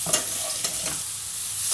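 Mushrooms fry in a frying pan with a bright, continuous sizzle and a couple of soft stirring scrapes, close and steady for a brief moment.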